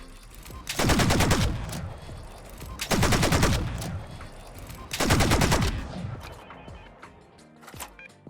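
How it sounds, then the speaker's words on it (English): A laser gun in Fallout 4 fires three rapid bursts of six rounds each, loud dense crackling volleys spaced about two seconds apart, each one decaying into a ringing tail, with no talk over them. "I do want to show off that 6-round burst so you get an idea what you're getting into when you use this weapon"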